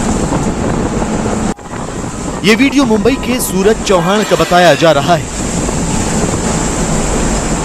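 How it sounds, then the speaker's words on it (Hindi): Stormy sea waves and gusting wind batter a tug boat sinking off the Mumbai coast during Cyclone Tauktae. The roar and wind buffeting run throughout, with a brief dropout, and a voice speaks over the rough water midway. "आंखों के सामने उफान मारती समुद्री लहरें और उस पर कागज की तरह डूब रही बोट।"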